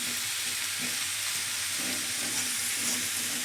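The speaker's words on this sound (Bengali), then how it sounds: "নাড়াচাড়া করে নিব, সব কয়টা মশলা যেন ভালো করে লাউর ভিতরে ঢুকে যায়" Bottle gourd being stirred with spices in a hot pan gives a steady, close sizzle of frying, with soft scraping from the stirring running underneath throughout.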